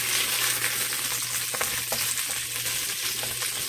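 Pinto beans are stirred in a pot over a steady sizzle and bubbling, with a few soft scraping strokes from the spoon, close and continuous, with no talk.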